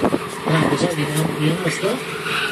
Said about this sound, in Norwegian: mens alle bilene drifter